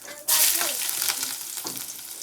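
Cumin seeds hit very hot oil and burn, bursting into a loud, close, crackling sizzle that keeps spitting and popping steadily.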